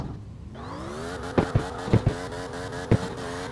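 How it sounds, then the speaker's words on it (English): Patron GT race car in CarX Drift Racing 2 accelerating around a track, its engine climbing steadily in pitch through the gears with several sharp shift blips, loud and up front with no talking. "I'm going to run it around the track straight up, see how hard or easy it is to drift"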